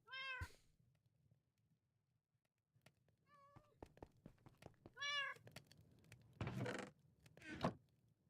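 A cat in Minecraft meows three separate times, with short clicks and footstep-like taps between the calls and a couple of broader rustling bursts near the end.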